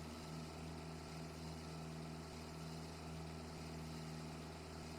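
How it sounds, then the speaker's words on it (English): A tractor engine idles steadily in Farming Simulator 25, a low constant hum with faint vibration, running alone without any voices. "I have a tractor."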